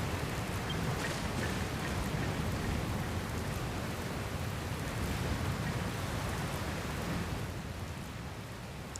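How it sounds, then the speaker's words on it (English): Steady rain pours through a thunderstorm in the video game Dragon Quest Builders 2, a dense, even hiss with low rumbling underneath that continues without a break. "looks like there's another storm rolling in"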